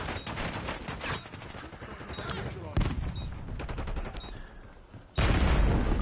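Rapid video game gunfire from a shooter, with dense automatic bursts and scattered single shots over background action, ending in a loud sustained blast.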